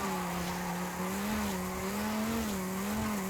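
A car in Forza Horizon 5 slides sideways with tires skidding. A continuous squeal over a droning engine wavers in pitch through the slide, loud and sustained, with no voices.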